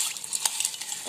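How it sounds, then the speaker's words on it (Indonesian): Cornflakes get stirred into melted chocolate in a mug, giving brief light scraping and clinking taps from a spoon, soft and close with no talking. "Aduk coklatnya sampai every cornflake are covered by the chocolate."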